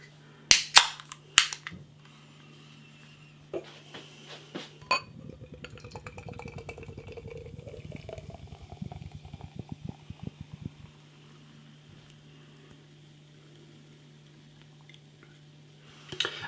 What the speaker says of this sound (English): Let's get the can out into a glass, see what we get.